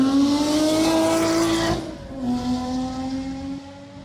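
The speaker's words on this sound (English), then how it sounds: "he has a new Ferrari that's so advanced you can hear the Doppler effect from inside the vehicle" A Ferrari in a film roars past with a strong Doppler shift, its loud engine tone holding high then dropping sharply in pitch as it goes by, then continuing lower and steady.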